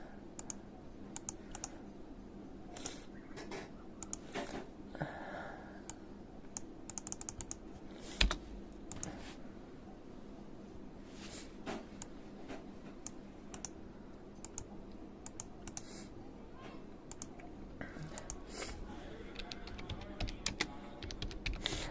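Computer keyboard keys tapped in steady, quick bursts while keywords are entered for a local business ad search, close and fairly quiet, with occasional louder clicks and no talking.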